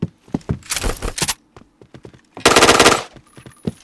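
Rapid bursts of automatic gunfire from a video game, two loud dense volleys separated by scattered single shots and clicks, with no talk over it.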